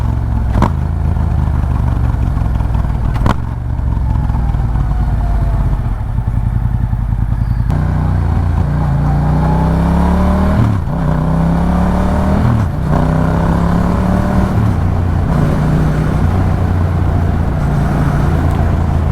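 A Yamaha MT-07 motorcycle engine is heard while riding, a loud, continuous close-up drone whose pitch climbs and drops through repeated gear changes, with wind rush and no talk.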